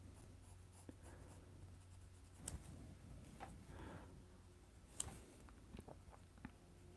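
Colored pencil laying a white highlight on a Post-It note while drawing Darth Vader, a faint, steady scratchy scribble with a few soft taps, close and quiet with no talking.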